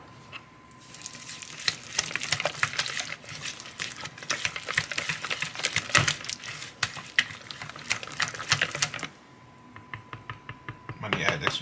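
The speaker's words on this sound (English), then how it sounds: "Just throw that in there and mix it up." A spoon works dry basil and parsley into a cheesy manicotti filling, making busy scraping and clattering against the bowl that stops briefly near the end and then resumes, with a voice speaking at times.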